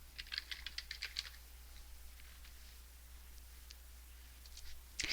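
Quick bursts of keystrokes on a computer keyboard as text goes into a search box, clustered in the first second and trailing off into faint, sparse taps over a low steady hum.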